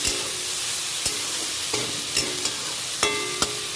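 Eggplant pieces fry in oil in a pan with a steady, moderate sizzle. A few sharp clinks from stirring against the pan are scattered through, and no one speaks.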